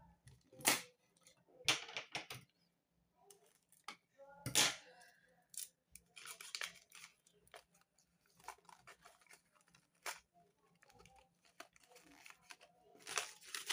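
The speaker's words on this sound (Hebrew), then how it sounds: "שמים סלוטייפ" Adhesive tape is pulled and torn while being pressed onto an origami-style sock puppet, giving sharp, irregular ripping bursts and crinkly rustles, close and quiet, separated by brief pauses.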